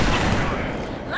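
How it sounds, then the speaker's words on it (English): Rapid gunfire and booming blasts from a sniper battle in Halo 3 fill a dense, loud wash, with voices shouting over the combat. "Someone's sniping!"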